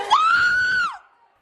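A doctor screams desperately during a brawl in a hospital emergency room: one loud, sustained high scream lasting nearly a second, then falling off into quiet.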